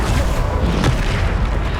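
Deep explosive spell blast from the Bombarda charm in Hogwarts Legacy, a dense, loud boom of rumbling low energy filling the whole moment, with one sharper burst near the middle and no speech.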